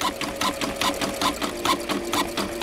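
A sewing machine stitches steadily at close range, its needle thumping in an even fast rhythm, with no talking over it.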